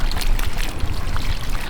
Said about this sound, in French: prends l'eau pour arroser